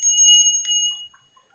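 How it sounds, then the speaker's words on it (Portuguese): A small handheld bell is shaken in quick repeated strikes, bright and close, and its ringing tone decays after the last strike with a few faint tinkles. "O sininho da vitória de Cristo"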